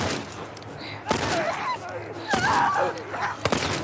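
Gunfire in The Last of Us Part I remake on PS5: a few loud, sharp shots at spaced intervals, each a broadband crack with a short tail, heard alongside game background noise and a speaking voice.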